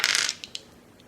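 Dice rattling and clattering in the video game Lobotomy, a dense burst of rolling followed by a few sharp separate clicks as they settle, close and fairly quiet.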